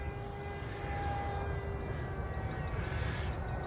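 A flat foam RC airplane drones overhead, its small motor giving a steady whine with shifting pitch, moderately loud against a low rumbling background and no talking.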